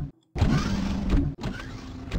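Airlock-style doors in modded Minecraft operating, a mechanical whirring slide that starts abruptly, runs for about a second, stops briefly and runs again, loud and close with no voices.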